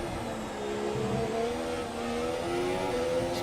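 A Formula 1 car in the F1 2017 video game screams at high revs as it oversteers out of a corner, the engine note rising steadily and loud throughout with no talk over it.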